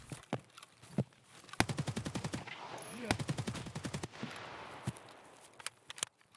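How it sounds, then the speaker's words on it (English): Gunfire in the Escape From Tarkov video game, with long rapid automatic bursts and scattered single shots around them. Loud and close, mixed with faint movement noise. "We start shooting at him from behind the fence and only then we peek from the open part to finish him off."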